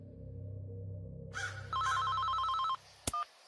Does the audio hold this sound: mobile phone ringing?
yes